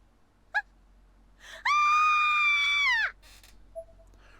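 A character in the horror game Corpse Party: Blood Drive lets out a short gasp, then a sustained high-pitched scream lasting about a second and a half, loud and close against near silence.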